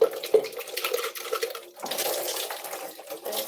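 Running water splashes and trickles steadily while something is rinsed off with water and bleach, with light clinks of objects in a sink, close and moderately loud, pausing briefly before the flow resumes.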